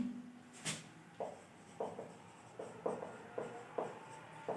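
Chalk or marker strokes on a board while an HCF problem is worked out come as a series of short, close scratchy taps and scrapes in an irregular rhythm, each stroke briefly rising out of a quiet room.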